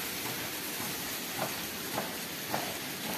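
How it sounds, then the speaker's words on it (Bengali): Palm fruit (taal) pulp is scraped by hand in a home kitchen while cooking goes on nearby, giving a steady rasping hiss with a few slightly louder scraping strokes at even intervals. "বাবা এখন তাল চাঁচছে দেখো"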